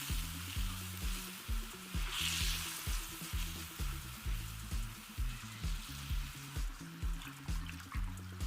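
Coconut milk being stirred into a pumpkin curry soup in a pan, a soft continuous sizzle and liquid swirl under a repeating low rhythmic background, faint and close.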